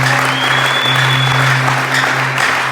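Church congregation at a conference applauding and acclaiming, a dense continuous wash of clapping, loud and sustained, with a faint whistle rising briefly.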